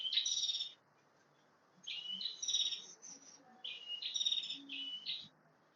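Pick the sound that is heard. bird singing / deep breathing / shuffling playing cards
bird singing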